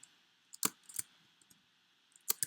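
Sparse, crisp clicks of a computer keyboard being tapped, a few isolated keystrokes and a short cluster, close by and faint in an otherwise quiet room.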